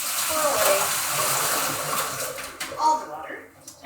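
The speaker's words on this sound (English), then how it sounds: "I'm going to get rid of the water here. So I'm going to lift up my bowl, pour away" Water pours out of a bowl in a steady splashing rush that tapers off as the flow ends, with a person talking over it.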